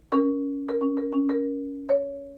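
Single mallet strokes on a keyboard percussion bar, played slowly as the 30-second notes of a roll on D flat: a sustained ringing tone, then a cluster of distinct separate attacks, then one more strike, with no talk.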